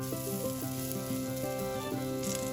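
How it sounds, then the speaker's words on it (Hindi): Chickpea kebab balls deep frying in oil beside patties shallow frying, a steady close sizzle with soft clatter of a spatula turning them, no talking. "यहाँ पर हम बॉल्स को डीप फ्राई कर रहे हैं और जो टिक्की है इसको हम शैलो फ्राई कर रहे हैं"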